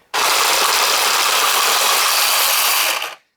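An automatic card shuffler runs through a deck of unsleeved Magic cards with a loud, constant whirring and riffling noise that starts abruptly, holds steady for about three seconds, then stops.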